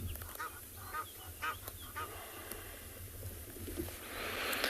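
A spur-winged goose calls in a short series of honks on a sunrise safari at Tswalu, set against steady low rumbling background noise, with a rising hiss near the end.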